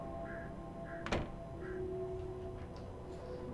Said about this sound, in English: That's not how you open a door